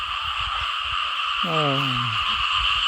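A single loud, drawn-out frog croak rises near the middle, standing out against steady insect buzzing in a rain-flooded rice field at night, with a fainter chorus of other frogs croaking around it.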